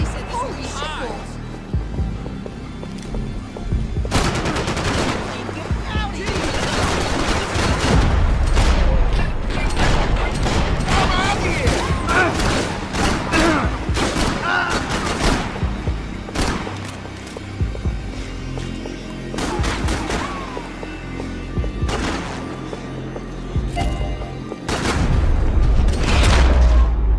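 Bursts of gunfire and heavy booms from a shootout in the video game Max Payne 3 are mixed with mechanical clanks and shouting voices, loud and dense throughout.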